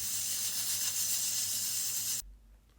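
A pressure cooker canning jars of shiitake mushrooms hisses steam in a steady, loud, broadband rush that holds for about two seconds, then cuts off abruptly, leaving a low rumble.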